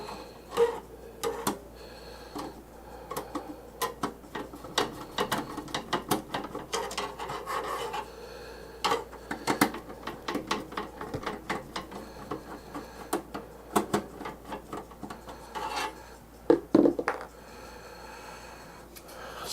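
A screwdriver backs screws out of a desktop PC case during a graphics card upgrade, giving scattered small scraping clicks and ratcheting rasps at close range, with no talking.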